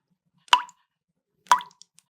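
Two separate drops of Copic marker ink plop one by one during a drip refill, each a crisp wet tap about a second apart, close and clear against silence.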